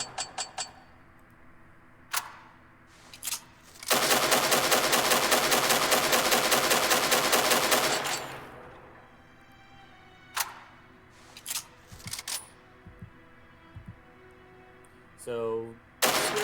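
A weapon firing in the sci-fi shooter Angels Fall First: a few sharp single shots, then a dense rapid burst lasting about four seconds, followed by more scattered shots and mechanical clicks.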